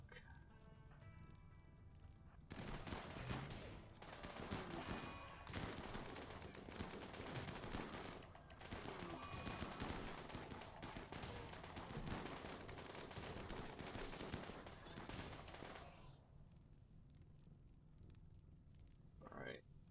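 Rapid gunfire and combat noise from the colony-sim game RimWorld, a dense sustained burst of shots lasting about thirteen seconds before cutting off into quieter background.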